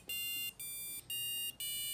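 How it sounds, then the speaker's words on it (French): An electronic alarm clock built on a Raspberry Pico with a photoresistor beeps four times in quick succession, each a sustained high-pitched electronic tone of about half a second separated by brief gaps, clear and alone. "ils viennent de constituer un réveil électronique facile"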